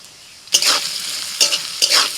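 Carrots go into hot oil with a loud, close sizzle that flares up in three bursts as pieces are added and stirred, fading slightly between them.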